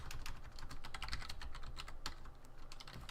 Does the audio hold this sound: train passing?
no